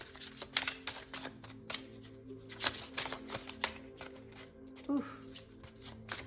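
Tarot cards are shuffled close by, producing a rapid series of crisp riffling flicks and slaps, while a person speaks briefly.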